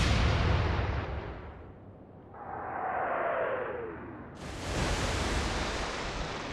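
Naval guns fire in the Atlantic Fleet video game: a heavy booming blast rumbles away into a rushing whoosh, then a second loud blast crashes in and roars on.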